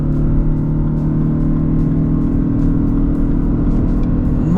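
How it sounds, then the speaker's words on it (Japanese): Lexus LBX accelerating hard with the throttle floored while merging onto an expressway, a steady loud engine drone with rising harmonics heard from inside the cabin, no talk. "ちょっとここの合流加速やってみましょうかね"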